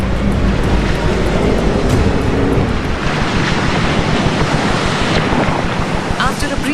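Ocean waves churn and wind buffets the microphone in the Drake Passage, a loud continuous roar of surf and gusts with rushing swells, heard close and alone.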